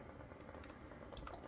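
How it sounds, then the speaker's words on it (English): Pork, bacon and white bean chili simmering in a pot, a steady soft bubbling and burbling with occasional small pops, close and continuous with no talk. "We're going to let it continue to simmer"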